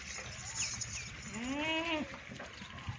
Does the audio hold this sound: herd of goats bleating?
yes